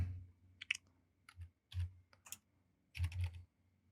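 Fingers tap out test card details on a computer keyboard in short irregular clusters of crisp, close keystrokes, separated by brief pauses, with nothing else audible.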